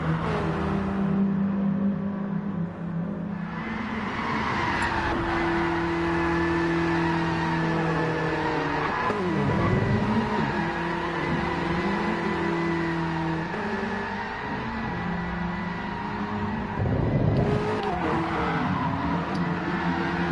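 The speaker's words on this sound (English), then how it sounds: "It's a monstrosity of noise, tyre squeals, ghosts of cars, smoke" Cars in the racing game GT Sport revving in a lobby before a hot hatches versus BMWs race, overlapping droning engine tones rising and falling, with brief squealing swells from tyres, loud and continuous without speech.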